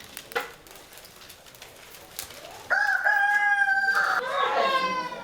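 A rooster crows loudly in a rural farmyard, a sustained rising call near the end, after scattered clucks and rustling, with faint voices in the background.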